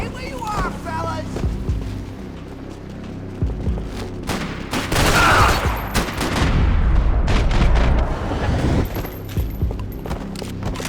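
Bursts of automatic gunfire and heavy blasts from the video game Max Payne 3, loud and dense, building to a sustained rattling barrage mid-clip, with shouted voices mixed in.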